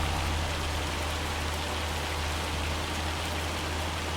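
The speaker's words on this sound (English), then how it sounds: "I hate doing this kind of work in the hail and the rain" Rain and hail in the farming game Farming Simulator 25: a dense, even wash of falling rain, constant and fairly loud, with no voices.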